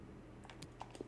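Computer keyboard keys tapped a few times in quick succession during a FIFA 19 gaming session, faint and sparse clicks over a steady low background hum, with no talking.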